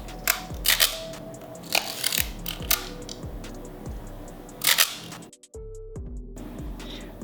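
An analog film camera being handled, its back door shut and the shutter fired twice: a string of sharp mechanical clicks and snaps, close and crisp, with a brief hush partway through.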